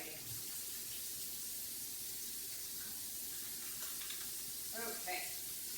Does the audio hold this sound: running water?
yes